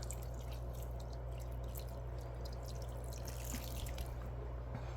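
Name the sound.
water dripping out of the bottom of a plant pot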